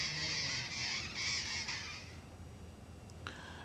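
Parrots squawk in a small town near hills, a dense cluster of harsh bird calls for the first two seconds, then fading to a quieter background with one brief cry near the end.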